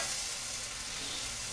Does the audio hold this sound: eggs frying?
yes